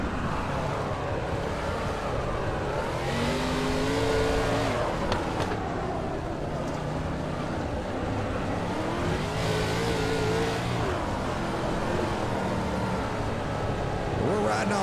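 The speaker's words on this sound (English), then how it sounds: "They're out there making some noise at the Chili Bow in this D-main." Sprint cars racing the D-main at the Chili Bowl dirt track, a dense, roaring wall of engines rising and falling as cars sweep past, continuous and loud, with a commentator talking over the din.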